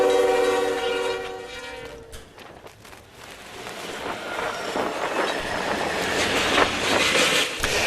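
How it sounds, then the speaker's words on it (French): A diesel locomotive pulling a freight train sounds its horn loudly, then the wagons rumble and clatter past in a sustained, rising roar close by. "le train de marchandises tiré par une locomotive diesel passe sans encombre"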